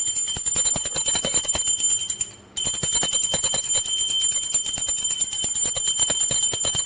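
A puja bell rings during Ahoi Ashtami worship, struck rapidly and steadily with bright, sustained metallic tones. The ringing breaks off briefly near the middle and then resumes, loud and close, with no speech.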